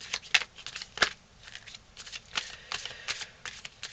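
Tarot cards being dealt and shuffled by hand, a steady run of soft papery slaps and flicks close up, several distinct card snaps among quieter rustling, with no talking.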